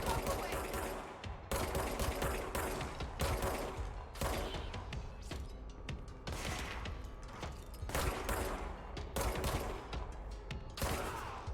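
Rapid gunfire from shooting enemies in the video game Control, dense bursts of shots fired in quick succession, loud and close, with brief pauses between volleys.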